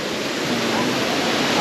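Imugan Falls pours in a steady, loud, unbroken roar of falling water, close by and constant, with faint voices barely audible beneath.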